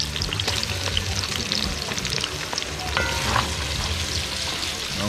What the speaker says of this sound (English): And so we are sauteing them up here a little bit, about a minute.